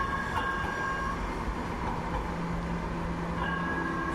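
A Bombardier Flexity light rail train runs through a Minneapolis station, a steady rumbling roll with faint tonal whine from the car, continuous and moderately loud with no talking.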